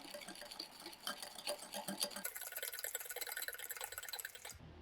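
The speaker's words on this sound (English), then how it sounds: "Now I'm going to cream all this together." Pudding batter creamed with apricot jam in a bowl, a steady close whirring mix with rhythmic sloshing and scraping, no voices.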